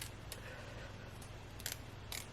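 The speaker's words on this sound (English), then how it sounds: "now let me cut the lace. We're just gonna snip this real jagged" Scissors snip jagged cuts along the lace of a honey blonde highlight frontal wig, giving a few brief, faint clicks over a low steady background hum.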